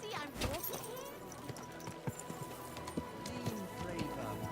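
Horse hooves clip-clop steadily in a video game, a mid-distance rhythmic plodding under overlapping speech and game sounds.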